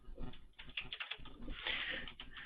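Rapid keystrokes on a computer keyboard while filling in a registration form, a close, steady patter of clicks over about two and a half seconds with a brief pause near the middle and no voices.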